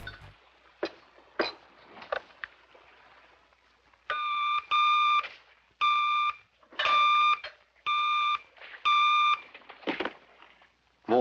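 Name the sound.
red telephone ringing in the 1960s Adam West Batman series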